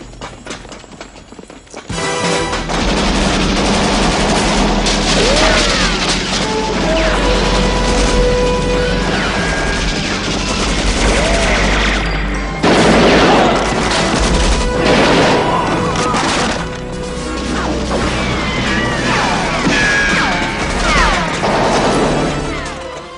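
Dense, loud gunfire and crashing in a GoldenEye film scene, Russian soldiers shooting through the archives, a continuous barrage of shots and impacts lasting many seconds with music and effects layered underneath.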